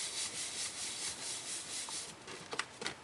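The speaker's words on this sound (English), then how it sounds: "then I flip it over, give it a good rub, get all those layers to adhere together with that liquid adhesive" A hand rubs firmly over layers of cardstock glued together with liquid adhesive, giving a soft close brushing friction that ends in a few short scuffs.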